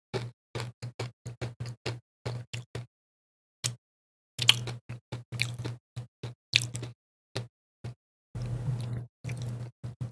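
Close, repeated wet chewing of ramen noodles, sharp squishy bites in quick bursts with short pauses, louder and denser toward the end, no talking.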